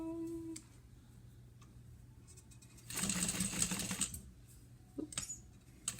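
A sewing machine stitches a bag seam in a short burst of fast, buzzing needle strokes lasting about a second, followed by a brief second run, near and moderately loud in a quiet room.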